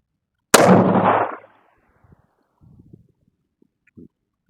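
A single sharp, loud .308 rifle shot cracks at an outdoor shooting range, its boom trailing off over about a second, followed by faint scattered handling noises.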